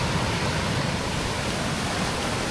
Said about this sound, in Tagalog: Amihan po ngayon kaya malalaki yung alon.